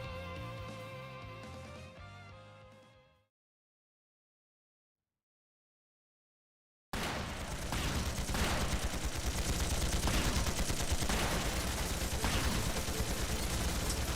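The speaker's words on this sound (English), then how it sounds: "They're just firing at the ground." Gunfire in the video game Trails through Daybreak II: dense rapid shots fire loudly after a stretch of silence, overlapping with earlier music-like tones that cut off abruptly.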